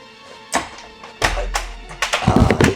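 A door in need of repair comes open with a few dull thuds and knocks, close by in a quiet room, the last bumps bunching together.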